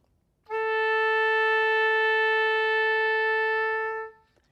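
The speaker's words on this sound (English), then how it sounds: "they give something called an A that sounds like this" An oboe sounds the orchestral tuning note A as a single steady held tone with rich overtones, lasting about three and a half seconds before stopping cleanly, played alone with no talking.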